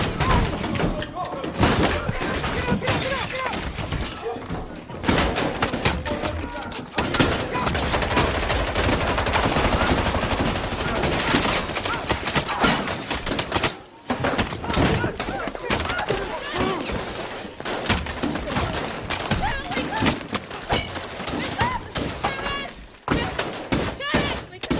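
Heavy gunfire in a tense confrontation, with rapid bursts and single shots cracking over and over for the whole stretch, loud and close, mixed with thuds and shouting voices.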